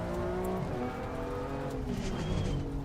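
A BMW M2 race car in Assetto Corsa Competizione runs loud and steady throughout, its engine droning with shifting revs as the driver tries to downshift, close and alone without talk.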